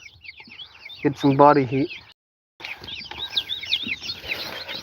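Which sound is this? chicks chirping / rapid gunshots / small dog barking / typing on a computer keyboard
chicks chirping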